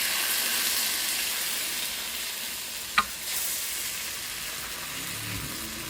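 Rava dosa batter just poured onto a hot griddle gives a steady, bright sizzle that holds throughout, with one brief sharp tap partway through and no talking.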